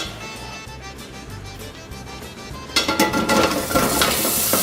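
Sausage going into a stock pot over medium heat, with quiet clinks and stirring at first, then a sudden loud sizzle as it starts frying.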